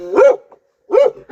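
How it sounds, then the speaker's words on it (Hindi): A dog near a Pahadi village home gives two or three loud, close barks with short pauses between them, heard on their own with no talking. "बाबा कितना खतरनाक भौंक रहा है।"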